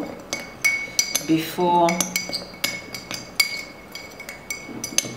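A spoon stirs ginger and moringa powders together in a small bowl for homemade hair oil, giving a run of close, bright clinks and scrapes of metal against the dish, with a brief spoken word.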